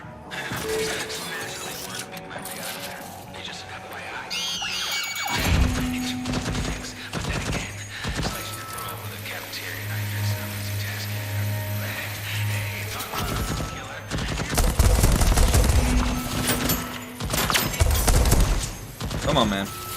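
Automated turret firing bursts in the video game Deathloop, a loud clattering fusillade of repeated shots with mechanical clanks, rising and falling over about twenty seconds amid game noise.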